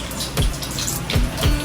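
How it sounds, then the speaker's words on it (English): Hands rinsed under a running tap during a hand hygiene demonstration: a steady rush of water with a few soft splashes and thumps, close and fairly loud, with no talking. "Now that you are done rinsing your hands"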